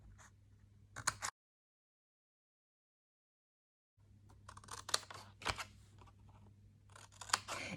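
Scissors cut paper along a line to make a folded treat box, giving crisp snipping bursts near the start, a stretch of silence, then a longer run of close, irregular snips and rustles.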